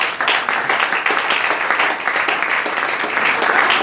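A church congregation applauds the Lord with dense, sustained clapping, loud and close, with a few voices faintly underneath.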